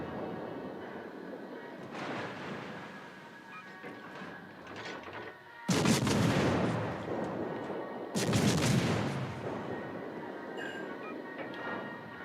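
Warship guns in a naval video game fire HE shells in two heavy, booming salvos several seconds apart, each a broad roaring blast over a continuous rumbling engine and ambient background.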